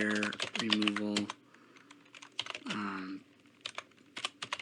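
Computer keyboard keys tapped in short irregular bursts while keywords are entered, faint clicks running under and between stretches of a nearby man's speech.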